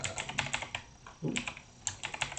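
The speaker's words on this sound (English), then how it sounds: "I use a Razer keyboard that's actually for Windows on this computer" Rapid close clicking on a Razer computer keyboard, short bursts of keystrokes with a brief pause in the middle, no voices.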